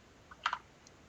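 Computer keyboard keys tapped for a short command in a text-based game: a light click, then a tight cluster of two or three sharper clicks, and a faint final tap, close and dry with no talk.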